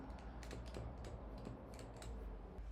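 Keys pressed on a keyboard while testing a key-detection setup, making a faint, steady series of close clicks over a constant background hiss.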